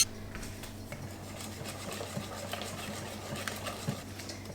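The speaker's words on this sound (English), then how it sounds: "I'm just going to mix all of this leftover blueberry in with this mixture" A utensil stirs leftover blueberry into a cheesecake mixture in a bowl, making soft, irregular scraping and light clinks against the side. The mixing is quiet and close, and no one speaks.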